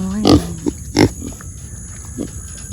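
Pet pigs grunting close by in a garden, several short snorting grunts spaced irregularly, with a steady faint hum running underneath and no talking.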